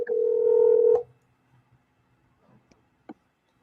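A telephone line being opened gives a loud, clean dialing tone for about a second, then near silence broken by a few faint clicks and one sharp tap.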